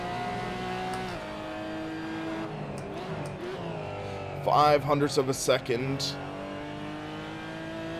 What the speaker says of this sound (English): This is the Cayman GT4 Club Sport.